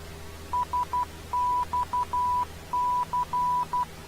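Morse code identifier from the Santa Catalina VOR navigation beacon: a clear, steady tone keyed in dots and dashes, three spaced groups over faint radio static.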